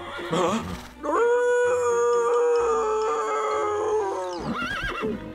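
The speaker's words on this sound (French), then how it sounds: "Attention, Chili, un loup!" A long, wavering howl, called out as a wolf's, rises and holds for several seconds in a cartoon scene, loud and close, with brief voices and noises before and after it.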